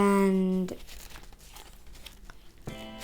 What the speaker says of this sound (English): using the existing creases, we're folding the flap back